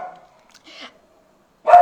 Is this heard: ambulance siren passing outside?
no